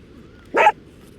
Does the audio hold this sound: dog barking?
yes